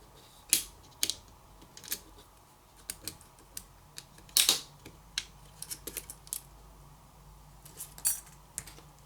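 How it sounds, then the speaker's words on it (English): Small metal parts coming off a Sony Xperia 10 Plus during teardown: a Phillips screw and a covering metal plate are removed, giving sparse, sharp, close-up clicks and light taps spread irregularly over a quiet background. "Now remove the metal plate that's covering it."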